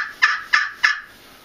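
Turkey gobble calls made with a Spursuader custom turkey call, three quick, sharp, evenly spaced bursts, close and loud, then silence.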